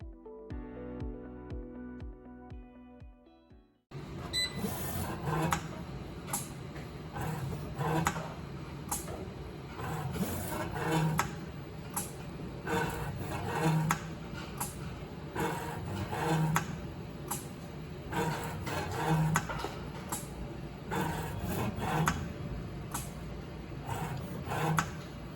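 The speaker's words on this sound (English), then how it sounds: "we use machines to apply thread lock" A thread-locking machine at a screw factory in Taiwan runs steadily, with a repeating mechanical clatter of clicks and thumps at regular intervals after a brief musical intro. No speech.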